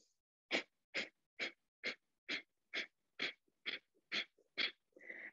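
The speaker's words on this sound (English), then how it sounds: "you then start to almost pump the exhales as if you've got a wee rubber band that's sort of like snapping your belly" Yoga breathing with rapid, forceful pumping exhales through the nose: ten sharp, evenly spaced snorting puffs about half a second apart, close and distinct, followed by a longer breath at the end.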